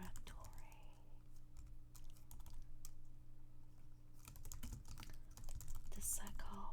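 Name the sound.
typing on a keyboard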